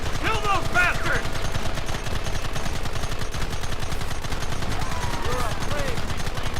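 Continuous automatic and rifle gunfire in a Red Dead Redemption shootout, dense rapid rattling shots throughout, loud and close, with shouted voices and faint chatter mixed in over the fire.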